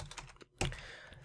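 Quick keystrokes on a computer keyboard, a short patter of clicks, a brief pause, then a louder burst of typing, all close and without talk.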